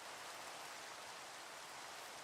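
Steady hissing rain falls on farmland in the video game Minecraft, a dense, even wash of sound that is faint and continuous with no other noises.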